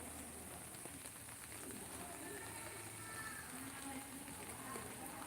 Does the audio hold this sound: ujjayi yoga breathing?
no